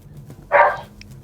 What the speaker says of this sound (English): your pit bull is giving you a little competition in the back there